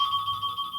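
A timer going off as a steady electronic beeping tone held through the whole moment, loud and close with nothing else over it.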